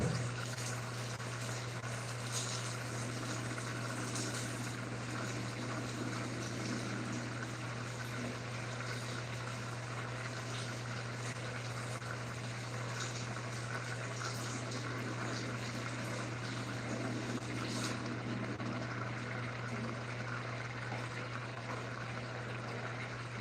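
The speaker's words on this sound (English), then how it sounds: "I'm gonna get started with the cabbage. Washing and washing." Water running steadily from a kitchen tap while cabbage is washed, a constant close hiss and splash with a low hum underneath.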